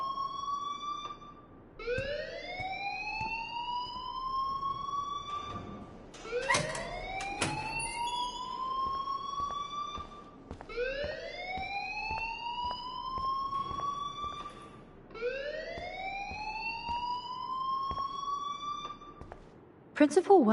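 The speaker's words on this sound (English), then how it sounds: "please turn off that alarm since that's your job" A school alarm in a video game rings in repeated rising electronic sweeps, four long whooping cycles with brief gaps between them, loud and steady throughout.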